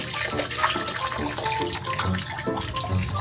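Water runs steadily from a tap while something is washed, a continuous close splashing stream with faint clattering over it.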